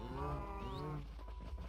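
Cows mooing in Minecraft, one drawn-out low moo with a rising bleat-like note, close and loud, followed by quieter shuffling.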